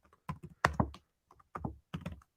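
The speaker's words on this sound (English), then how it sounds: "But hold on, I'm just typing up." Keystrokes on a computer keyboard come in short irregular clusters of clacks and thunks, close and distinct, with brief gaps between bursts and no talking.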